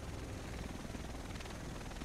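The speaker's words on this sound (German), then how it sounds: "Der Rest von uns sitzt in diesem Heli." A helicopter in the video game The Division, heard as a steady, loud whirring rotor and engine drone that fills the whole moment, with no voices over it.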